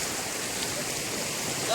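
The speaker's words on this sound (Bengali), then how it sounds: "কিন্তু এবার জল শুনলাম অনেক, যার জন্য একটু টেনশন হচ্ছে।" Rushing river water in the Yelbong River canyon, a constant broad hiss of flowing water close by, steady and loud for the whole short stretch.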